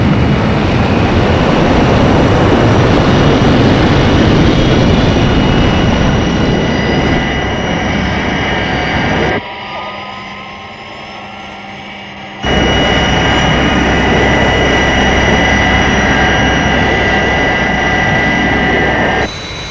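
The Fireflash airliner's jet engines in flight make a loud, steady roar that cuts to a muffled interior hum for a few seconds, then the full roar returns, with no voices.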